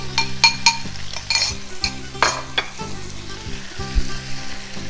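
Tomato concasse added to a hot pan of shrimp sizzles and fries steadily, with stirring, occasional clinks of a utensil against the pan, and a low steady hum underneath, all close and fairly loud.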